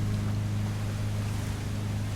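Battleship engines running at flank speed in the naval game War Thunder: a steady, dense low engine drone with rushing water and wind noise, continuous and loud throughout.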